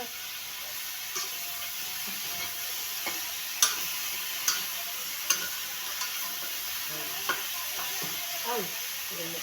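Vegetables sauté in a pan with a steady soft sizzle, broken now and then by faint ticking clinks of a utensil against the pan.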